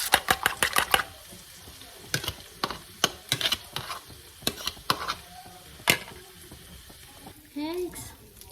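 Vegetables, basil and Swiss chard stirred in a pan with seafood seasoning, a quick run of sharp scraping clicks at first, then spaced utensil knocks over a faint sizzle, with a brief hiss near the end.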